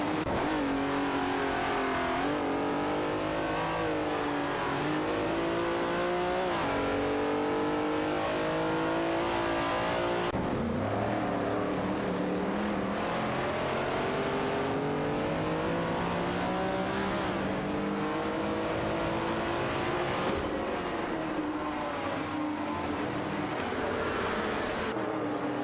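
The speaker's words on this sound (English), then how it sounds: "Ah, the classic race start. Just a bunch of metal boxes with wheels zooming around" Race cars in a racing video game roar off the start line together, a continuous loud blend of revving engines rising and shifting through gears, with occasional tire squeal and no talking.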